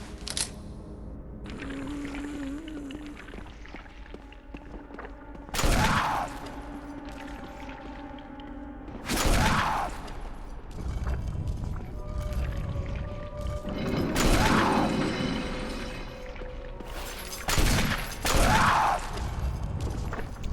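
Gunshots fire in Resident Evil Remake, loud sharp blasts spaced several seconds apart over a quiet, eerie game ambience with faint tones and no talking.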